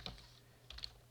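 A computer keyboard is typed on with a few faint, quick keystrokes: one near the start, then a small cluster shortly after, quiet and without talk.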